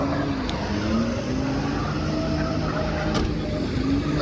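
A car drifts with a steady, loud engine roar and a wavering tyre squeal gliding up and down in pitch, continuous throughout.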